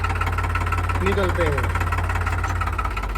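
A Chhava tractor engine idles and runs with a steady low throb, close and continuous, while someone talks over it.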